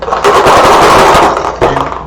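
Dice rattle and clatter across a table during a two-player prototype war board game, a dense burst of rolling clicks lasting about a second and a half, then a short second tumble, loud and close.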